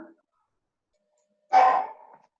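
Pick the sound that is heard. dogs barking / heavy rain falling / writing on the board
dogs barking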